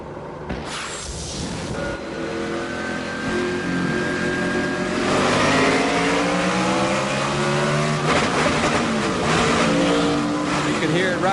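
A race car with a damaged transmission, unable to stay in fourth gear, revs up and down repeatedly at the 2005 Sam's Town 300, rising pitch sweeps under commentary.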